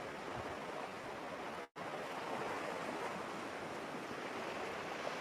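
Ocean surf washing onto a sandy shore, a steady broadband wash that fills the whole stretch, briefly cut to silence once near the start before the rolling waves resume.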